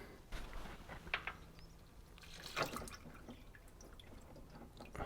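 Diesel drains from a Takeuchi TL6 tracked skid steer with an O-ring jammed against the threads, heard as faint scattered drips and liquid trickles. A few brighter splashes stand out near the start and middle.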